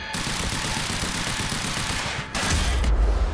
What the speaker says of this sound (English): Oh no! Man with machine gun backpack.